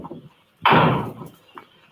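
A door is forced down with one loud, close crash, a heavy splintering burst lasting under a second before fading, in an old Arthur Wontner Sherlock Holmes film, The Fatal Hour.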